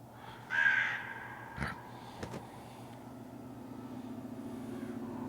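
A crow caws once, briefly and somewhat distant, over a low steady ambient hum in a video game, followed by a few faint knocks.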